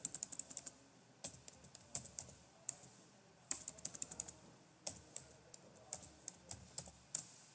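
Keystrokes on a computer keyboard while the destroy command is entered in a terminal: irregular bursts of crisp, close clicks and taps separated by short pauses, alone and fairly quiet.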